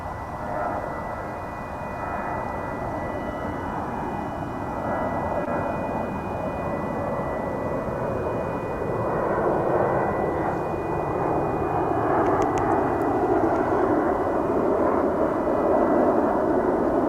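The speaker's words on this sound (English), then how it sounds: "That American Eagle jet is going to Killeen in Texas." An American Eagle jet rumbles at DFW Airport, a steady broad engine roar that swells slightly louder over the later seconds, heard from a distance with no voices.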